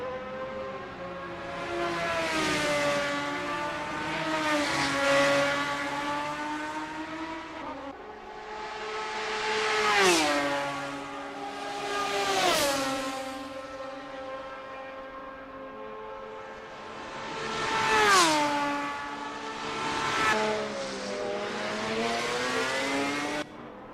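Race cars warming up at the Hockenheimring in the Assetto Corsa racing game, engines revving and droning in repeated rising and falling sweeps, with several loud, close swells of acceleration over a steady engine bed, no talk.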